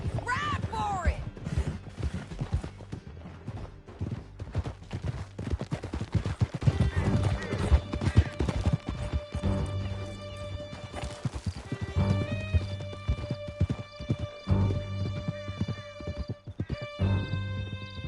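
Horses gallop in Red Dead Redemption, with dense, rapid hoof clip-clops close by, scattered gunshots and neighing, plus voices talking over the ride.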